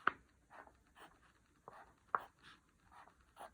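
A pen sketches circles on paper and divides them into fourths, giving soft, intermittent scratchy strokes with a few sharper taps, quiet and close with no talking.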